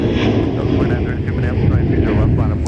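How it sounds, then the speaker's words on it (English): A Boeing 737 jet departs from Minneapolis–Saint Paul airport with a loud, steady engine roar that wavers and rumbles for a few seconds, heard alone. "Interrupting 737 departure."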